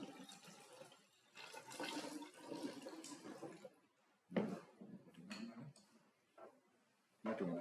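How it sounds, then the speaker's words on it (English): Pure water pours into a container during a relative density lab practical, a faint uneven trickle and splash in several short bursts, with quiet clinks of handling in between. "We shall add in some pure water."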